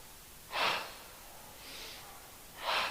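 Three breaths in a seated yoga twist, two sharp close inhales with a softer one between, spaced over a few seconds against a quiet room.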